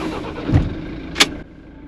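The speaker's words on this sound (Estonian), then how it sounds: "ma tahan veel teile korra lasta seda häält, kui ilusti Kaubik tööle läheb" A 1963 Volga van, just back from repairs, cranks briefly and its engine catches, then settles into a low idle. It is close and fairly loud, with a clunk near the end and no talking.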